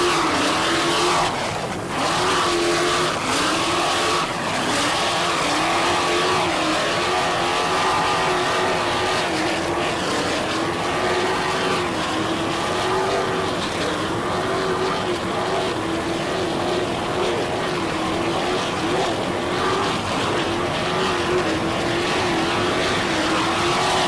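Racing powerboats of the Agitator race team at the 1990 Point Pleasant race run flat out, their engines a loud, steady, high-pitched drone that holds without a break throughout.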